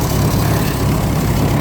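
A 1940 Farmall H tractor engine runs with a steady, loud, low rumble and continuous chugging throughout.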